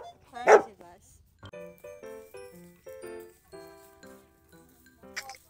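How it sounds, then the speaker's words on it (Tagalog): Several dogs of different breeds bark on a farm: one loud sharp bark near the start, then a run of thinner whining, yelping barks of varying pitch, fairly close and with no talk over them. "Dito po may makikita kayong iba't ibang uri ng aso."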